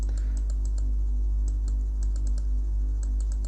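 Numbers being typed on a computer keyboard while working in Excel: a steady run of light, crisp key clicks over a constant low hum, with no talking.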